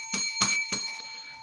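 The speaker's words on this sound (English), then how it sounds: "God, I miss using that bell." A bell rings three times in quick succession, bright ringing strikes that leave a sustained tone fading afterward, loud and close.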